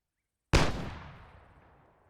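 A single loud rifle shot on a marksmanship training range, with a sudden sharp crack after a moment of silence and a long reverberant tail fading over more than a second.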